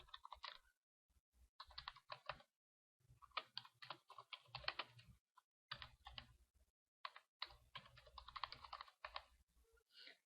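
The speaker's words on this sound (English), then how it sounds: "we're going to type in enterprise fund expenditures" Rapid clicking keystrokes on a computer keyboard, bursts of typing separated by short pauses, close and fairly quiet with no talking.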